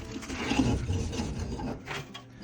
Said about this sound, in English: I scrape the sides,